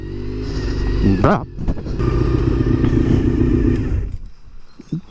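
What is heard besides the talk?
motorcycle engine while riding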